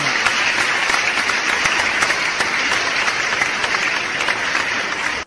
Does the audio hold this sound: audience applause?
yes